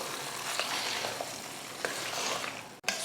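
Hot oil tempering with curry leaves poured into ven pongal and mixed in: a dense, close sizzle with a few soft scrapes and knocks of stirring, ending in a sharp clack.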